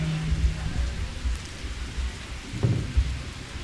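Steady rain pours down outdoors at a gathering, a dense, continuous hiss with low rumbling underneath.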